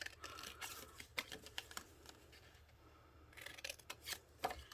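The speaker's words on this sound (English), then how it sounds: "I'm going to cut an angle outside of the squares" Scissors cutting small angled snips into a 6x6 paper-pad sheet for a handmade backpack satchel card, soft crisp rasping cuts in short bursts, close and quiet, no voices.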